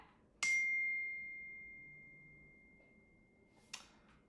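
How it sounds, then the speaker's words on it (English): A phone notification chime, a single clear bright ding that rings out and slowly fades over a few seconds in a quiet room, followed by a faint click. "Sorry, I just got a notification."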